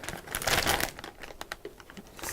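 A candy wrapper being opened, a loud burst of crinkling plastic followed by scattered sharp crackles and rustles, close up and alone.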